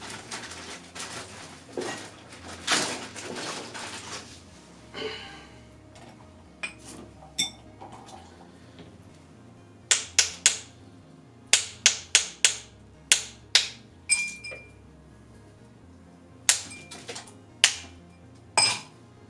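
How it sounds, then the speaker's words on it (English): Fresh ice cracked for a rocks glass: a burst of clattering and crunching, then a series of sharp, close, separate cracks and clinks at an uneven rhythm. "This goes in a rocks glass, so I'm going to crack some fresh ice."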